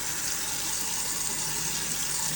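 Water hisses and sprays steadily from a leaking faucet attachment after its pause button is pressed, a continuous close rushing with no break and no talking.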